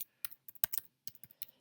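Typing on a computer keyboard while entering text in a Google Docs document, a quiet series of sharp key clicks in small irregular bursts with short pauses between them, no voices.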